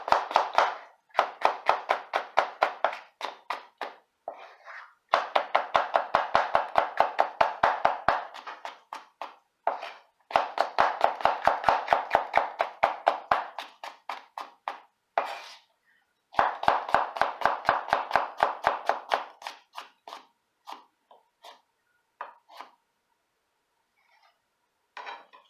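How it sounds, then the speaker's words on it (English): Kitchen knife chopping vegetables on a cutting board, rapid rhythmic knocks in three long bursts with brief pauses, close and fairly loud, no talking. "Now that my vegetables all cut up the way I need them to be"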